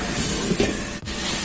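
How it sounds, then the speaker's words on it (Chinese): Braising sauce for yellow catfish with pickled chilies reducing over high heat, a loud continuous sizzling hiss with a brief dip near the end, close and alone. "大火收汁，收至汤汁粘稠"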